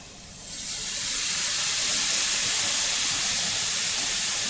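Water steams apples in a hot pan, a loud steady broadband hiss that swells up within the first second and holds constant and close, with no talking.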